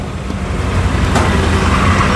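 A passenger vehicle crowded with riders drives along a road in Azamgarh, Uttar Pradesh, giving a steady loud engine and road rumble with constant low-frequency noise throughout and no talking.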